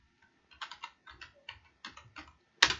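A few words are typed on a computer keyboard in quick clustered keystrokes, soft close clicks in short bursts, ending with one louder sharp key press.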